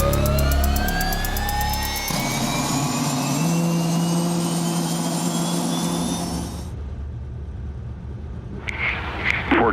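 A helicopter engine whines and roars in flight, a loud sustained turbine drone with rising tones that suddenly drops away, followed by a brief quieter radio-like burst near the end.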